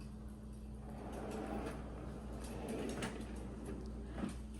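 A pull-out tray drawer glides along its runners in a home kitchen cabinet, giving a soft, steady sliding rumble of a few seconds, with faint knocks near the end.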